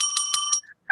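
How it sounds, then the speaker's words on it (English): A desk bell is struck several times in quick succession, each bright metallic ring sharp and close, followed by a brief quiet and one more ring starting at the very end. "Oh, by the way, I have the bell here."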